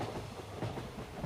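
A passenger train rolls along its rails with a steady low rumble and faint rhythmic clatter from the wheels, heard from inside a carriage during a short journey.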